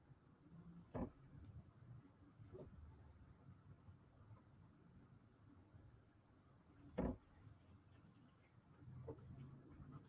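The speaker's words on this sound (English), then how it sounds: "Oh, the crickets. No, the crickets are real." Steady high, rapid chirping of many crickets in a neighborhood at night, a continuous outdoor insect chorus with a few soft thumps and faint background rumble.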